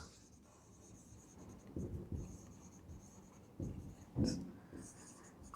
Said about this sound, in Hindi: तो मैं यहां पर लिख दूं कि independent events